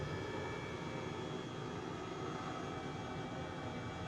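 Airbus H135 helicopter in Microsoft Flight Simulator 2020 coming in to land on a small island, a steady, even turbine and rotor drone that holds constant throughout with no voices.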